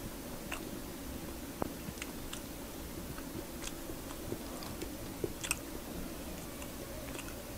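Someone chews and bites into walking catfish eaten with green pandan sticky rice, giving soft wet mouth sounds and scattered small clicks and crunches, close and fairly quiet with no talking.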